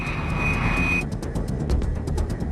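An A-10 Thunderbolt Warthog jet flies by with a steady engine roar and a high whine that cuts off after a second, leaving a rumbling drone marked by short repeated pulses.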